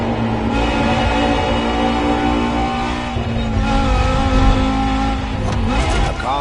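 A Porsche Carrera GT engine in the racing game The Crew Motorfest revs loud and steady with a high, sustained howl, rising and shifting pitch through gear changes, with no talking.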